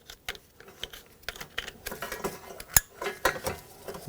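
Relays are pushed back onto a 2013–2020 Nissan Pathfinder trailer wiring harness, giving a string of close, irregular plastic clicks and taps with one sharper snap partway through.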